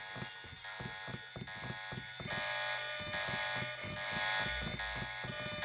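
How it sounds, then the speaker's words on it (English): A buzzing electronic alarm sounds continuously in the video game Deus Ex, a harsh tonal drone with rapid pulsing clicks and thuds layered over it, moderately quiet with no speech. "does the alarm really matter at this point?"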